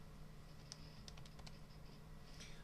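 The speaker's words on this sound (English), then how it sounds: "So I'm going to type in cosine of 35 degrees, enter" Faint, quick key taps on a calculator keypad entering cosine of 35 degrees, a short irregular run of soft clicks over a low steady hum in a quiet room.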